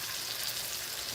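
Salmon and shrimp sizzle in a pan with the juices from their seasonings, a bright, steady frying hiss up close with no talking.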